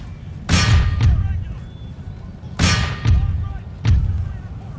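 Musket volleys or artillery fire in an Empire: Total War multiplayer battle: three loud, sharp booming bursts about a second apart, each trailing into a rumbling decay.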